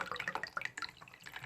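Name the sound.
water draining from filter valve into a bowl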